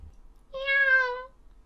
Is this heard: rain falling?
no